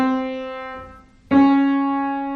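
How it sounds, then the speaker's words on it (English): A single piano C sharp note sustains and fades, then is struck again firmly, ringing out bright and close with no voice over it. "That's the C sharp."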